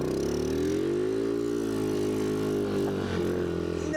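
A Honda dirt bike engine revs hard in third gear, a loud, close, buzzing drone that holds steady with slight pitch shifts as the wheel spins.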